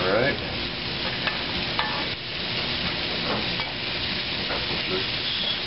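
Food sizzles loudly in a pan, vegetables cooking before meat is added, with a constant close hiss broken by scraping stirs and small clatters of a utensil against the pan.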